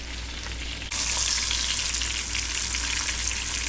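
Fish fries in hot oil in a pan with a dense, steady sizzle and crackle close by. The sizzle swells sharply louder partway through as the fish is flipped, and there is no talking.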